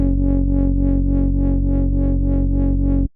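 Speed garage synth bass holding a single F#2 root note for two bars, made in Ableton: a loud, thick, distorted tone with a fast rhythmic wobble pulsing about eight times, then cutting off abruptly.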